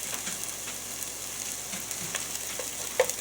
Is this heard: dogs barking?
no